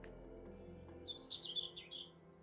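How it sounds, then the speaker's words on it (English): A greater whitethroat singing near farm fields, giving a brief, quick, scratchy warble of chirps. It is faint and somewhat distant over a low background hum, with no voices. "There we go, that's the greater whitethroat."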